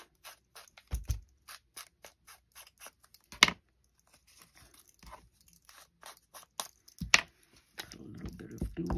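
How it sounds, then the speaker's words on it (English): Junk mail envelope paper ripped by hand in short, sharp tearing bursts, close and crisp, separated by quiet pauses and light paper rustling. "Let me rip off this straight edge. Rip it up any which way."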